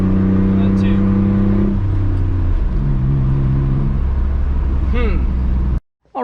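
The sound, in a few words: truck engine revving with throttle floored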